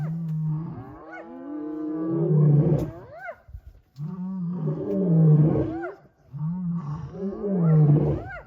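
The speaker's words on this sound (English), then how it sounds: "one of the lions to take off in the loudest roar I've ever heard and start chasing the hyenas" Lions in Kruger National Park let out deep, powerful roars while chasing hyenas, three long surging bursts with brief gaps between them, loud and close, with no talk.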